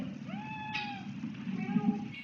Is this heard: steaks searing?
no